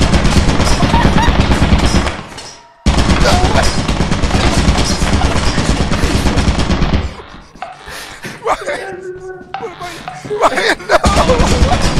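Turrets fire in the game Lethal Company as a loud, dense stream of rapid gunfire, cutting off briefly, then resuming amid game noises and shouting voices.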